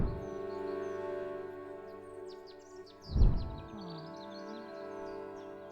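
A mountain bluebird calls in the board game adaptation Wingspan: soft chirps and twittering notes rise over sustained background music, with a dull thump midway.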